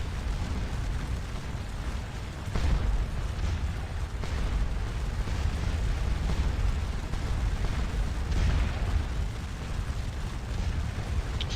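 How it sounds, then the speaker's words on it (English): Heavy cannon fire rolls continuously in a Napoleonic battle at Waterloo, Scourge of War video game: canister blasts and booms layered over dense battle din, with sharper reports standing out near three and eight seconds. "the canister fire is the difference maker, not the line units"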